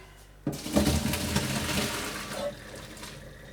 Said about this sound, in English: The pumpkin is all cooked, so I'm gonna drain the water, I guess.